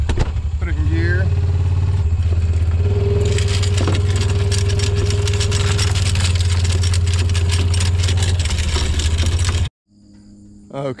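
A vehicle engine drones steadily in gear while fence wire unrolls behind it on farm ground, loud and continuous, then cuts out abruptly near the end.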